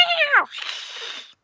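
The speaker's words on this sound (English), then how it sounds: "Suddenly, she lets out a thunderous meow that leaves us terrified" A female cat in a video game lets out one loud, close meow that drops in pitch, then trails into a breathy hiss before silence.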